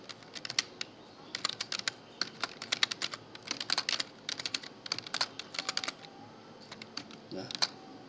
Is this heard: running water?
no